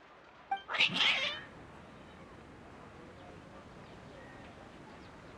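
In the video game Genshin Impact, a cat lets out one short, loud yowling meow near the start, then only quiet background hiss remains.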